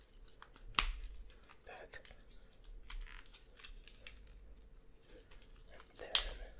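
Small plastic parts of a G1 Transformers toy, a Cybertronian jet, clicking as the wings swing out and the legs fold in: two sharp close clicks plus softer handling taps, with quiet whispered speech between.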